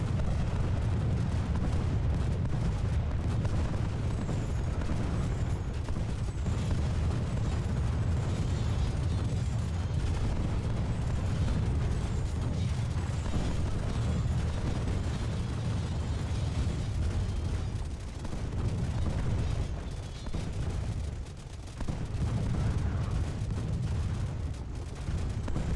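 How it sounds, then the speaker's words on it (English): Mine explosions and massed gunfire roar from an Age of Empires 2 siege battle at the Berg bastion walls of Vienna, with dense, continuous rumbling booms and crackling shots throughout, loud and unbroken with no talk. "the Ottomans exploded several mines at the base of the Berg bastion walls, opening a large breach"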